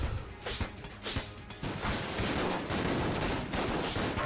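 Shotgun blasts in the dungeon shooter Enter the Gungeon, a string of punchy shots repeating roughly every half second before blending into a dense, continuous barrage of gunfire and impacts.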